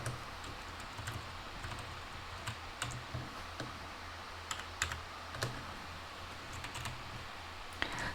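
Someone typing programming code on a computer keyboard: quiet, irregular bursts of close key clicks and taps, some keystrokes sharper than others, with no talking.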